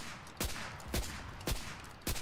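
Gunfire from a Fedorov Automat in Enlisted: four sharp single shots spaced roughly half a second apart, fairly close, cracking over a constant battlefield rumble.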